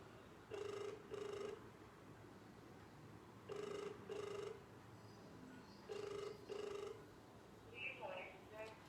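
A mobile phone rings three times in paired electronic bursts, a steady repeating tone pattern sitting over a low hum in a room, with a faint brief sound near the end.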